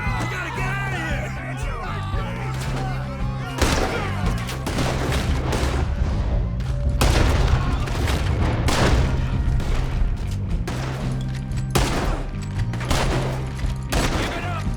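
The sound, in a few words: gunfire in the video game Red Dead Redemption 2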